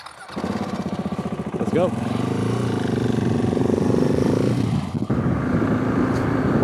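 A Husky 701 motorcycle engine idles with a close, steady thumping, then revs up and rolls off as it pulls away, while a voice speaks briefly over it.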